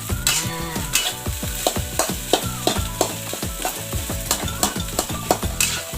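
Fried rice (nasi goreng) stirred in a hot pan, with steady oily sizzling and repeated scraping strokes of a spatula in a quick, uneven rhythm, close and fairly loud with no talking.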